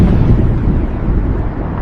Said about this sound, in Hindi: आसमान में और भी तेज गर्जन सुनाई देने लगी।